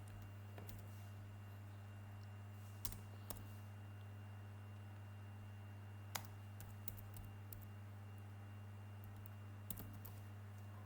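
Code being typed on a computer keyboard: sparse, quiet key clicks, single taps and short pairs spread irregularly over a steady low electrical hum, with no speech.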